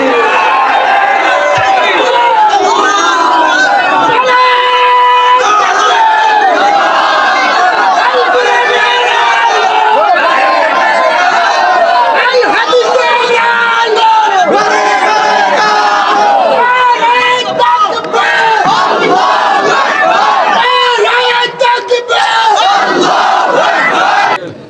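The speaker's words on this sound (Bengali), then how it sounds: "কার কার বুকে সেই ইমানটা আছে দাঁড়িয়ে হাত তুলে তাকবীর দিয়ে সারা দুনিয়াকে দেখে দিন" A large rally crowd shouts the takbir, 'Allahu Akbar', in loud, repeated unison chants that swell and overlap for nearly twenty-five seconds, with many voices roaring together close by.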